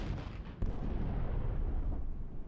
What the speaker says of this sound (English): Oh, we're being hit by enemy artillery.